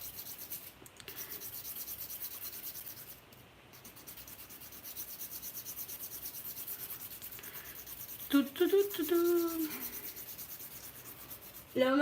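A sculpted XL acrylic fingernail is filed during a manicure: soft, steady rasping strokes, close and fairly quiet, with a brief louder scraping burst toward the end.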